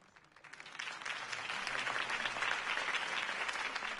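A crowd applauds after Harvey Dent's campaign speech in the Batman Telltale game, sustained clapping that rises quickly from quiet and holds steady at a moderate distance.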